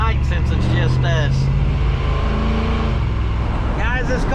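A 1961 Chevrolet wagon with new coil springs and helper bags cruises along a road, its engine and road rumble steady and close beneath someone talking excitedly throughout.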